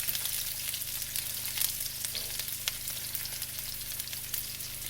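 About a dozen thawed shrimp fry in very hot grease, giving a steady, close sizzle and crackle with scattered sharp pops spitting throughout.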